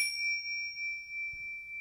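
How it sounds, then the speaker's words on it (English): Tibetan chimes struck once and left ringing, a clear pure metallic tone sustaining steadily with bright overtones, close and alone in a quiet room, with a faint soft knock near the end. "I have some Tibetan chimes, and these are also a beautiful sound thing"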